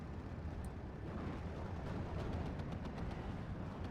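A .50 cal machine gun rattles off bursts in a World War II strategy game battle, thin rapid reports sitting under a thick rumbling wash of distant explosions and gunfire.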